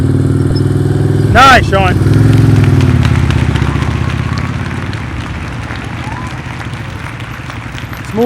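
Motorcycle engine running near and loud during a slow-speed U-turn in a riding-skills practice session in North Carolina, idling and revving unevenly under brief spoken praise.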